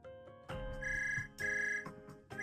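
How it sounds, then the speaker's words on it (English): A phone ringtone in the video game Zenless Zone Zero rings in a repeating electronic melody with a bright, steady tone across several short bursts, heard clearly without any voices. "Suddenly, a phone rings."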